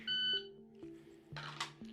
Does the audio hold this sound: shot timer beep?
yes